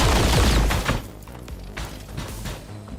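Gunfire in the XCOM 2 strategy game, a dense burst of loud impacts and blasts at the start, then scattered thuds and cracks trailing off with the game's ambient sound underneath.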